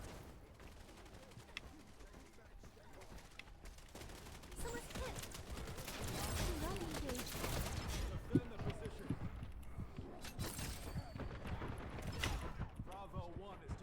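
Rapid gunfire crackles through a Wild Assault firefight, bursts and single shots coming from mid-distance in uneven clusters and growing busier midway, with voices talking over the battle.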